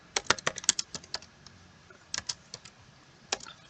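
Keys clattering on a computer keyboard while SQL is entered, a quick burst of close, crisp taps followed by scattered keystrokes and a short final flurry, with no talk over it.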